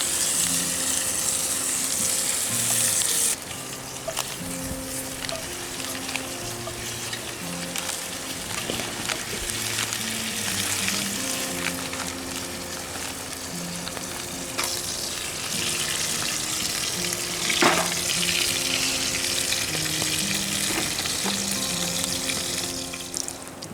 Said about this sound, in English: I'm gonna fry a little bit more bacon